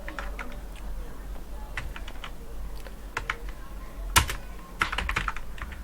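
Steady typing on a computer keyboard, with soft irregular key clicks, a few sharper louder taps and a low background hum, close by and alone with no voices.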